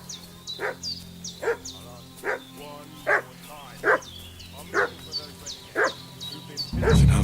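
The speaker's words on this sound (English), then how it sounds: "What's that dog making such a fuss about?" A dog in Kingdom Come Deliverance 2 barks repeatedly in short, sharp, evenly spaced yelps at middle distance, about ten barks in a row, followed by a low thump at the end.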